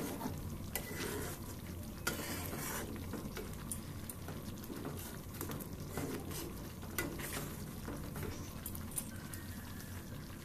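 Milk cream heated and stirred in a pan to make homemade ghee, giving a steady low sizzle and bubbling with frequent scraping and clinks of the spoon against the pan.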